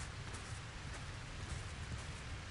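Steady storm rain in Hogwarts Legacy, a dense even hiss of rainfall with a low rumbling undertone, continuous and fairly quiet throughout with no talking.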